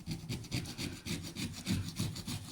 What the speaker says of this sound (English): So all I'm going to start off with is just a scraping tool, just to try and get off the worst of it.